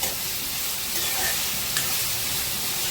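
Prawns with onions are stirred in a frying pan, a soft, steady sizzle with faint scraping and a couple of brief clinks, fairly quiet and close.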